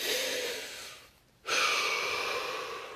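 A single deep breath in a calm guided relaxation, a soft airy inhale, a brief pause, then a longer slow exhale.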